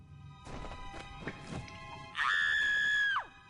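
A Scatter creature in Kingdoms of Amalur: Re-Reckoning lets out a harsh, shrill scream lasting about a second, loud and sustained, after a few scattered thumps and scuffs of combat.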